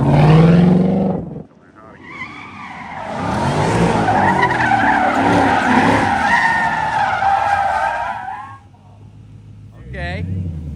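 A car skidding hard on pavement during a driving run, tires squealing in a long loud sustained howl over roaring engine, bracketed by revving before and after; a voice talks briefly.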